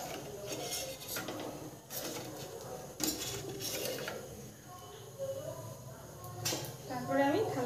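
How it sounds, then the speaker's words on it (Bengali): Four bowls set down one after another on a stand inside a pot of water, giving scattered clattering clinks of metal and crockery, with someone speaking over them while cooking outdoors. "এবার আমি এই বাটি চারটে বসিয়ে দেবো যাতে ভালোভাবে বসে"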